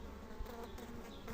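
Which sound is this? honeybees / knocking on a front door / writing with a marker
honeybees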